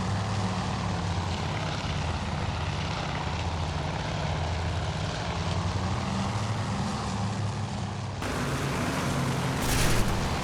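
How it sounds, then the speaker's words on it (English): A damaged Japanese bomber's propeller engines drone in the WWII naval game Task Force Admiral, a steady loud rumbling hum that holds throughout with a slight change in tone near the end. "Look at those holes in that bomber. Still flying."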